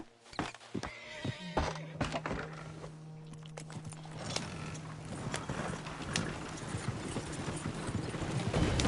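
Hooves clip-clop from a horse in the video game Red Dead Redemption 2, with a whinny and thuds in a busy outdoor scene and no one talking.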